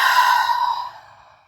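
A single long, soft exhale during a restorative yoga relaxation, breath flowing out steadily for about a second and trailing off into quiet, close and alone with no talking.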